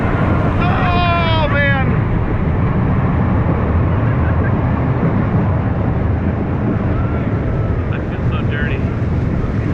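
A roller coaster ride at Tripsdrill theme park, taken from the front seat, with a loud, steady roar of wind and track rumble throughout, and riders shouting and talking over it.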